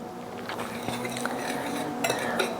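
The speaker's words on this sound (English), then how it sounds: "Then we're gonna whisk it up a little bit." A whisk beats cornbread batter in a bowl, producing a steady wet swishing with light clinks of metal against the bowl, close and continuous with no speech.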